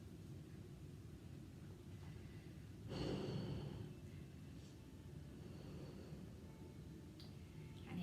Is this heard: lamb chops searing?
no